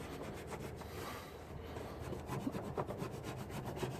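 Adhesive residue on a Tesla Model 3 hood is rubbed off with steady, rhythmic back-and-forth scrubbing strokes, close and continuous, with no talking.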